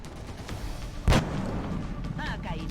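A single loud, sharp sniper rifle shot in the video game XCOM Long War, a sudden crack that stands out from a murky background of game ambience, followed by faint electronic chirps.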